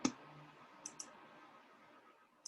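Sharp, isolated computer keyboard key clicks: one at the start, a quick pair near the middle, and one more at the end, with a faint room hum between them and no talking.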